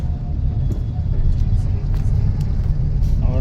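Steady low road rumble heard from inside a car moving along a highway in traffic, a constant loud drone with faint higher whooshes passing, and a voice speaking over it now and then.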